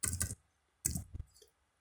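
Quick clicks on a computer keyboard while typing a bone name in Blender during car rigging, two short bursts of close, crisp keystrokes separated by a brief pause.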